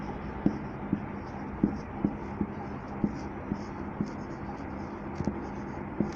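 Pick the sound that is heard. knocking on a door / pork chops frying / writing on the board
writing on the board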